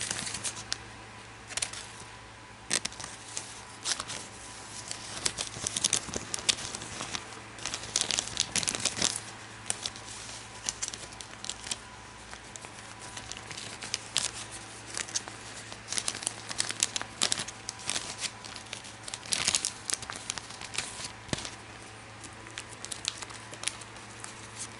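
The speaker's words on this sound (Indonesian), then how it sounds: "Langsung kita masukin ke plastik." A thin plastic sleeve crinkles and rustles close up as an old Indonesian banknote is slipped inside, with irregular crackling bursts that come and go over a steady low hum.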